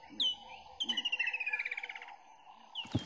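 Subtropical and savanna birds in a holy indigenous forest near Elim: a clear, close bird calls with a rapid descending trill of about fifteen notes, bracketed by shorter chirps, over a faint background of other calls.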